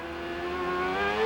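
Onboard IndyCar CART race car of Gil de Ferran in the wet at the 1997 Portland 200, engine note rising steadily in pitch as it accelerates, loud and close.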